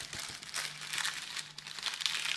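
Paper petals of a floating lotus flower lantern being folded, giving close, steady crinkling and rustling in soft bursts for a couple of seconds, with no talk.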